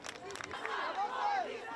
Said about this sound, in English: 17-year-old Nail's mother led a fired-up crowd in what started as a